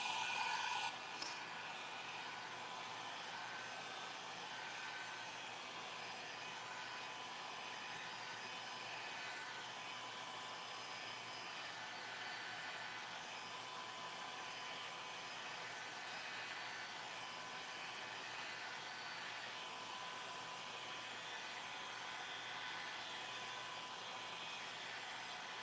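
A hair dryer drying a coat of finish on an MDF craft piece runs as a continuous, even whooshing roar, close and steady for the full span, with no talking.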